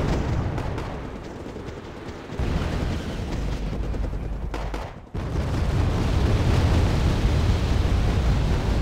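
Gunfire bringing down a plane in a war video game: a dense, loud roar of guns and explosions that runs throughout. A brief dip in the middle is followed by heavy booming fire.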